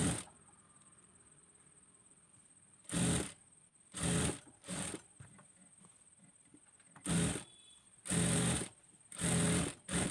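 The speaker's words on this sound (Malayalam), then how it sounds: "എന്നിട്ട് കറക്റ്റ് കൈക്കുഴി വരെ എത്തുന്നുണ്ടോ എന്ന് നോക്കിയിട്ട് നമുക്കത് ഫുള്ളായിട്ട് സ്റ്റിച്ച് ചെയ്തെടുക്കാം." A domestic sewing machine stitches a frock sleeve in short motorized bursts, several runs of rapid needle chatter separated by quiet pauses, close and fairly loud with a steady faint whine underneath.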